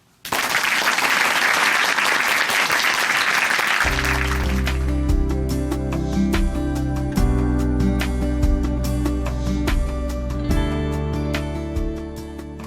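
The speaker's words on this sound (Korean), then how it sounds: "박수로 모십니다" An audience at a Korean church service in Chuncheon claps to welcome a speaker, a few seconds of steady applause, then music comes in over the clapping and continues.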